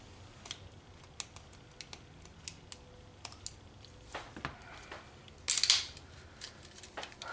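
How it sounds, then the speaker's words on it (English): Scissors snip through a plastic battery pack clamshell in a run of sharp, close clicks and cuts, ending in a louder crackling crunch of the plastic, with no talk. "cutting open a battery pack"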